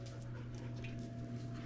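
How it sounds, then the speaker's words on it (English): Dogs panting softly and steadily nearby, rapid breathy rhythm under a low constant hum, no talking. "Crazy dogs. Trying to help."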